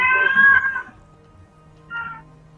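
A cat meows loudly and close at hand with a drawn-out call, followed after a short pause by a second, fainter and shorter meow.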